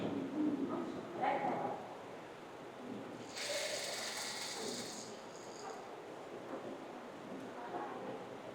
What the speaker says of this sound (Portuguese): Agora a gente volta aqui para a máquina reta. Ela vai alinhavar as cavas e vai fixar a lateral também.